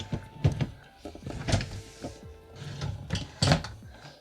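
A drawer being slid and knocked into a furniture unit during a bedroom makeover: several hollow wooden thuds and scraping slides, close and moderately loud, with soft speech between them.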